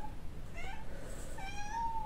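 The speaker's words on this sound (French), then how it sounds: "Mon chat qui pleure." A pet cat meowing in short plaintive cries, two or three harmonic calls of moderate loudness over a steady background hiss, with no talk.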